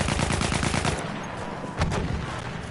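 Rapid bursts of gunfire from a Battlefield video game match, loud repeated shots for about a second, then a brief pause and another sharp shot over a steady background of battle noise.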